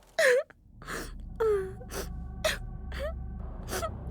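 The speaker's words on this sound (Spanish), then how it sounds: "De repente, se escuchó otra vez aquel llanto." Eerie wailing cries in a Mexican horror legend from Coahuila, a series of short gasping, moaning bursts with bending tones, each separated by brief pauses, fairly close over a low rumbling background.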